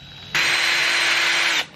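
A power drill with a bit whirs in one steady burst of just over a second, starting and stopping abruptly, loud and close with no speech.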